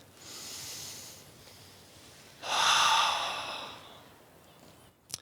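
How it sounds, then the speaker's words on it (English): Slow, soft breaths in and out, a gentle airy inhale followed by a longer, louder exhale, close and alone with no talking, ending with a small click. "And the breath."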